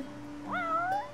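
A cat in the game Final Fantasy XV gives a single rising-then-falling meow lasting under a second, close and clear over a steady low background hum.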